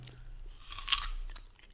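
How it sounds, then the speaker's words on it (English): Close-miked crunchy bite and chew of a fresh pear, one crisp crunch peaking mid-clip over soft chewing, quiet and alone. "I don't think pear chewing sounds are so horrible to listen to on the mic"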